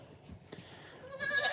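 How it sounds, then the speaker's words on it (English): A Nigerian pygmy fainting goat lets out one short, loud bleat at the end, after a quiet stretch of faint outdoor noise. "a Nigerian pygmy fainter goat."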